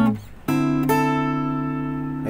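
A guitar chord is plucked once at the fifth fret and rings out clearly, sustaining and slowly fading after a brief earlier strum.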